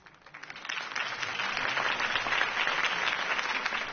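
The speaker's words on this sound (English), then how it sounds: "could have heard that applause" A crowd applauds after a political campaign speech in a Batman video game, with dense clapping that swells within the first second and holds steady and loud.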